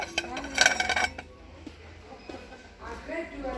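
Ceramic deep plates, 18 cm across, clink and scrape together in a shop's tableware aisle, a busy clatter early on that fades to softer handling while someone talks in French.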